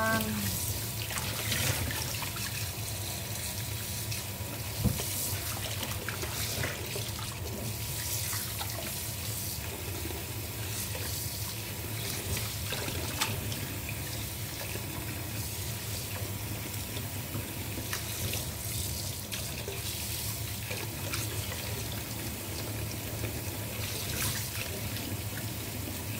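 Steady stream of tap water running into a sink while fresh vegetables such as tomatoes and cucumber are rinsed, a continuous splashing wash with occasional small knocks and clatters.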